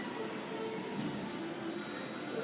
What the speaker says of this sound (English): Time to sit back, relax, enjoy this train ride